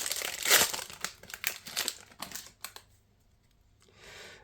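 A Lorcana trading card booster pack is torn open, with sharp foil crinkling and crackling in quick bursts, loud at first and then trailing off into softer rustles with a short final shuffle.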